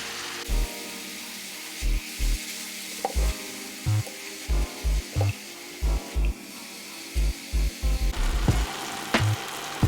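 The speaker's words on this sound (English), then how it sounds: "I'm just using some minced beef, which is quite lean, so that the patties don't turn out to be oily once they're cooked." Lean minced beef browning in a hot pan, a steady sizzle and frying crackle broken by repeated low thuds and scrapes as the meat is stirred and pushed around, with no talking.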